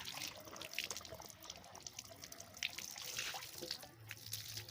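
Water gushes from a hand pump in a steady, splashing stream, close by and moderately quiet, with no voices over it.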